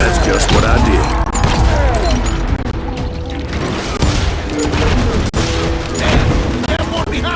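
Dense, loud gunfire from the Call of Juarez Gunslinger video game, with rapid shots and booms layered over game music and effects and voices shouting.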